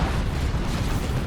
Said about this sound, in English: Yep, that's a Vanquisher cannon